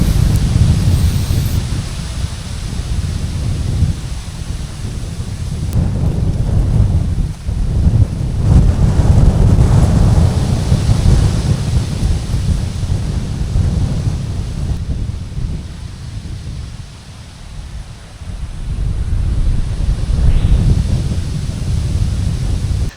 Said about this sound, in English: Look at that wind.